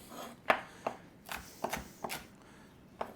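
Knife chopping peppers on a cutting board for an omelette: a handful of crisp, separate taps spaced irregularly, fairly quiet and alone.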